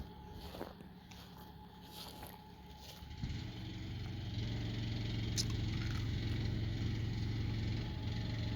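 A truck engine rumbles as it moves a tiny-house trailer through a gate, starting quiet, then surging into a loud, steady low drone that holds for several seconds, with no voices over it.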